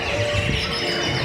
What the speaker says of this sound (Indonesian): Burung